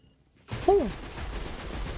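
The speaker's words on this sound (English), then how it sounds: "This gun is quite slow firing, but it does decent damage." Gunfire from a slow-firing weapon in the video game Destiny 2, a broad loud burst that kicks in after a moment of silence and rings on under a dense wash of game noise.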